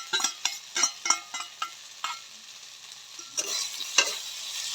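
Eel fries in hot oil, giving off a continuous bright sizzle broken by repeated scraping stirs of a utensil against the pan, close and fairly loud, with no speech.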